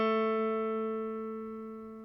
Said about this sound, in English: place it on the 2nd fret of the 3rd string, G. It should sound like this.